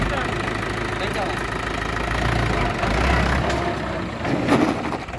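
A Mahindra 575 DI tractor engine runs steadily at close range during a brake test, a low continuous rumble with a brief surge near the end, while people talk over it.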